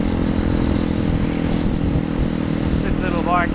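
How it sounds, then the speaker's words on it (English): Small motorcycle with its engine revved hard near its top speed on a road, a steady loud droning buzz throughout with a brief rising whine near the end. "Little bike is good for maybe 110 k's an hour, so that's really wringing its neck"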